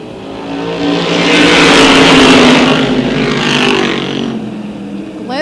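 Race cars thunder around Tioga Motorsports Park, engines roaring loudly as a pack surges past, swelling to a peak and easing off with a steady, dense drone.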